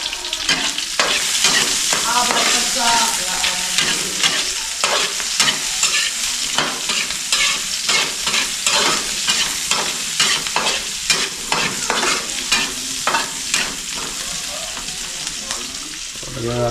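Garlic and onion fry in a pan while being stirred constantly. A loud, close sizzle is broken by frequent scraping and clattering strokes of the utensil, with no talking.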